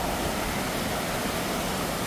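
A waterfall at a riverside fishing spot roars as a steady, dense broadband rush of falling water, constant and unbroken throughout, with no voices.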